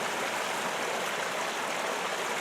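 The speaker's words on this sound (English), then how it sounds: "Not a very big creek." A small creek at Sheepskin Hollow runs in winter among ice formations, a steady close babble of flowing water with no voices, continuous and fairly loud.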